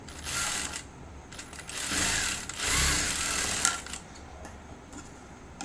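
A sewing machine stitches a blouse in close, whirring bursts that rise and fall as the fabric is fed through, with a few small clicks between runs.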